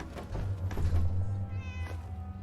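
A cat meows close by, one drawn-out, slightly plaintive call with a rising then falling tone, set over a low steady background hum.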